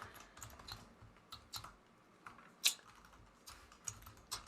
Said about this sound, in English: I've been typing the heck out of this keyboard